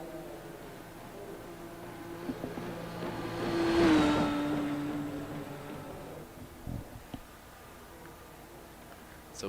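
A race car at an Indy 500 event rolls down pit road into its pit box, a moderate engine note swelling as it approaches and fading as it slows and stops, with faint background noise.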